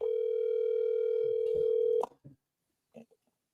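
Steady telephone dial tone on a call line, loud and continuous for about two seconds before cutting off abruptly, followed by faint clicks and brief murmuring.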